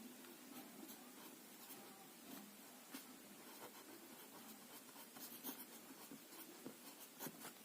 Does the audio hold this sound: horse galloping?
no